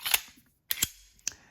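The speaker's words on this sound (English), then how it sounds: "It's a very, very soft shooting gun." A Sig P320 pistol fires three sharp, close shots, the first two close together and the third a little later, each with a brief mechanical clack and no talking.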